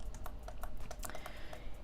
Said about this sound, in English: I hit E on the keyboard